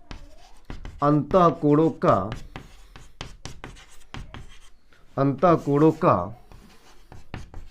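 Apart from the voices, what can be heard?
writing on a board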